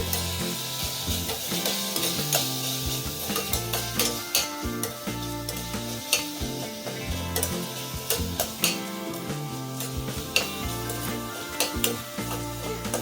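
Tomato rice masala with chilli powder and biryani masala is stirred and frying in a pan, a loud, close, continuous sizzle with repeated scraping and clinking strokes of the spoon against the metal, no talking.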